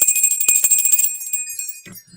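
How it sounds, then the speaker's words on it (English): Wind chimes ring out in a bright, sustained shimmer of metallic tones, with a few soft clinks as it fades and a faint tap near the end. "why I ring the bell and play the wind chimes"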